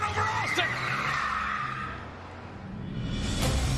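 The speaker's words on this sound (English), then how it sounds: "That car just ran over Austin!" Tires squeal loudly as a car skids across the pavement in a WWE wrestling video game, a sustained screech with a swish near the end and engine noise beneath.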